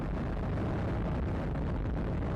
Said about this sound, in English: And liftoff of the United Launch Alliance Atlas V rocket with USSF-7 for the United States Space Force